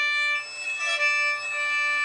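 A thin, high-pitched squeak rings out steadily as the bow touches a violin's E string, held for about two seconds with slight wavering.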